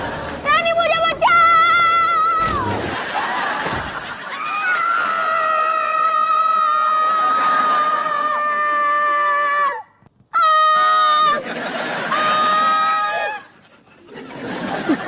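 People scream loudly in fright in a supposedly haunted room, long shrill wailing cries overlapping and breaking off, with excited voices and laughter between them.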